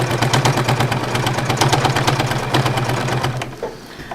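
A sewing machine running steadily while thread-painting a landscape, a loud close mechanical whir with rapid rhythmic needle clatter that slows and stops near the end.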